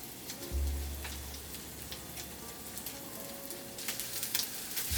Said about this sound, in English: Cook the bread for 2 to 3 minutes on each side.